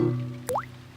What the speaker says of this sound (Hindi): डैडी पिग बूंदें इकट्ठा करने के लिए बाल्टी का इस्तेमाल कर रहे हैं।